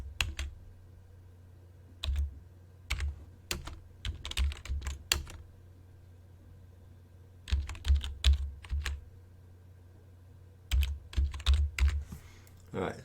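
Bursts of computer keyboard typing in a quiet room, brisk clusters of close key clicks separated by pauses, with a faint steady hum underneath and no talking.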